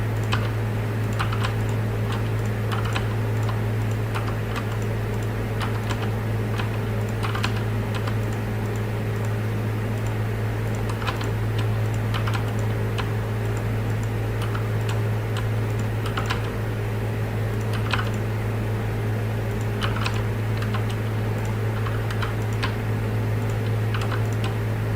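Computer keyboard keys click in a steady, fast series of light taps, close by, over a constant low electrical hum, with no talking.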